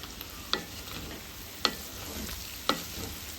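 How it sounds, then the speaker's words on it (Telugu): A spoon scrapes and stirs duck fry in a pan three times at roughly one-second intervals, each stroke a short metallic scrape over a steady low sizzle. "అడుగు నుంచి జాగ్రత్తగా తిప్పుకోండి."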